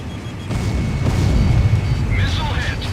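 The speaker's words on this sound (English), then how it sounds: "Missile hit!" A missile strikes during a jet combat video game, a sustained low, rumbling explosion swelling after half a second and rolling on under radio chatter and cockpit warning tones.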